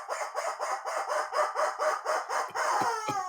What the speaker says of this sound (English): And the rubber chicken says,